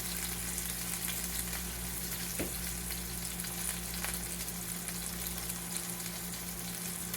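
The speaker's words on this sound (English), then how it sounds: "we're going to fry both pork chops" Pork chops seasoned with salt and pepper frying in a pan, a steady close-up sizzle with a constant crackle and hiss and no voices.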